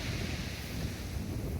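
Ocean waves break steadily onto a seashore as a continuous broadband wash, with wind buffeting the microphone throughout.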